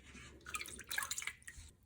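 Water-soluble stitch stabilizer connected to its backing sheet put into water: a few brief splashy drips and trickles, close and soft, with no talking.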